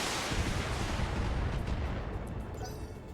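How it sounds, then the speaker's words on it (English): Mech weapons in the BattleTech video game fire on a target, a dense, booming barrage of artillery-like blasts that rolls continuously and loudly before slowly fading. "Firing on target."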